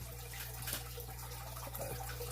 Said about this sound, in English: the water is kind of like like a little waterfall, and it sounds louder than it would be